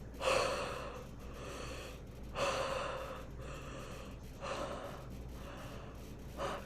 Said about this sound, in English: taking a deep breath, like really like a deep breath